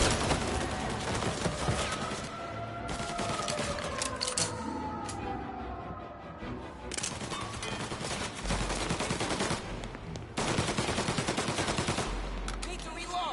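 Rapid gunfire crackles through a shootout in the video game Mafia, with bursts of automatic fire and single shots overlapping densely over the whole stretch.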